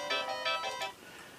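A short harmonic chime jingle plays from a Compaq Armada 1575DMT laptop, several bright bell-like tones stepping in quick succession before fading, clear and close with no talk.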